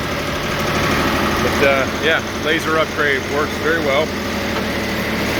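A diesel-powered sawmill engine running with a steady low vibrating hum, continuous beneath someone talking close by.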